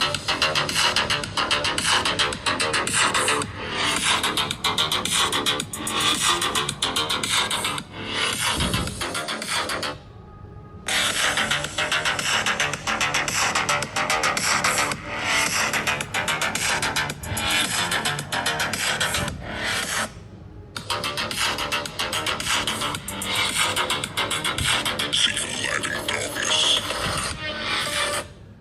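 Speaker test audio plays back through the OnePlus 13 and iPhone 16 phone speakers: a loud, dense, continuous stream that cuts out briefly near the ten- and twenty-second marks before resuming.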